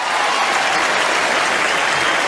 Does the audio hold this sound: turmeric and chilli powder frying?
no